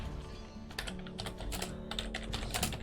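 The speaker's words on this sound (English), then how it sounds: "I'm gonna keep typing" Rapid typing on a computer keyboard during a game-building session, with irregular bursts of clacking keystrokes close by, no talk.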